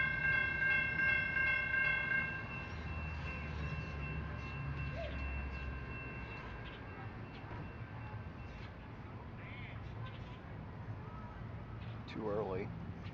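A train pulls into Lakeland Station in Florida, its horn sounding steady tones at the start, then rumbling on over a constant roar of wheels and engine.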